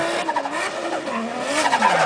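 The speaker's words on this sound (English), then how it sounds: "Rear wheel burnout." Manabu Orido's drift car does a rear-wheel burnout at a drifting event at Atlanta Motor Speedway: a loud continuous tire squeal over a revving engine, close and steady throughout.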